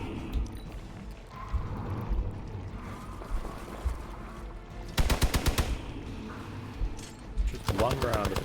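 Gunfire in the video game Marvel's Midnight Suns: a loud rapid burst of shots around the middle, then a second volley near the end, over a steady bed of game music and effects.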